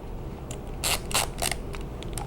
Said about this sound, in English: I'm just going to put this grip panel back